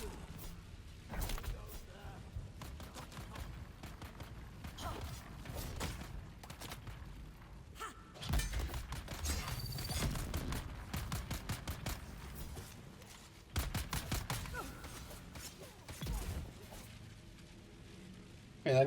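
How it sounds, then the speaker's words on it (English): Shotgun blasts in the video game Dune: Awakening, several sharp, heavy bursts scattered irregularly among thumps and game noise, with someone talking over them. "Yeah, I got this new shotgun as well."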